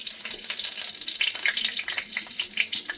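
Dried red chili and bay leaf sizzle in hot oil mixed with ghee in a pan, a steady, fairly loud crackling fry with dense bright spatter and popping throughout, with no talking.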